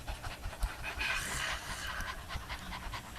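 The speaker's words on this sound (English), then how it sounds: "So that gets your diaphragm moving, the panting like a dog." Group panting like a dog during a choir breathing warm-up, rapid breathy puffs repeating steadily for several seconds, fairly close and sustained with no talk over it.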